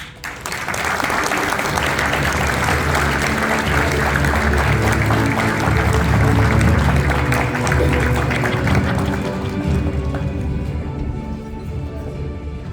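Applause from a luncheon audience at the NACCU 2022 awards for the University of Texas, Austin, winning the Best Card Design Award: dense, steady clapping that carries for about twelve seconds before thinning slightly.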